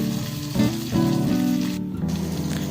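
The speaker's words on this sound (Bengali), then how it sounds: "তারপর একটু একটা টমেটো আমি স্লাইস করে কেটে রেখেছিলাম, সেটাও কিন্তু একই সাথে আমি ভেজে নিচ্ছি" Sliced tomato and bay leaf frying in oil for a mixed vegetable dal, a steady close sizzle with a few louder bursts as pieces are stirred, no voices.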